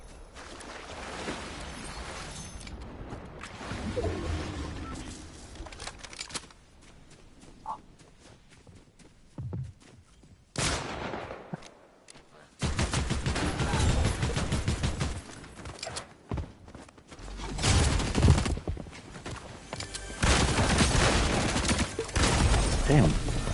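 Fortnite gunfire in bursts amid game action, mixed with other game sounds and shifting background noise; loud in stretches, with a voice talking at times.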